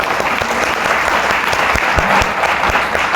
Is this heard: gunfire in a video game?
no